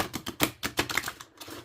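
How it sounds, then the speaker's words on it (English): Oracle cards are riffle shuffled by hand: a quick, crisp run of papery flutters and snaps in rapid bursts, close and fairly loud, with no talking. "I'm not the best at riffle shuffling anyway"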